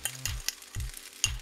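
Egg poured into a buttered pan for a farmers casserole sizzles and fries, with three short bursts of stirring or scraping over a steady crackle, close by.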